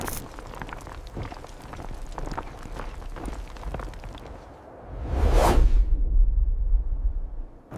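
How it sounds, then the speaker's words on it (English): Whoosh sound effect in a Veo AI-generated video, a single loud swelling sweep rising and falling, followed by a deep low rumble, after busy rustling movement. "I'm not a big fan of Veo adding this whoosh sound effect by default"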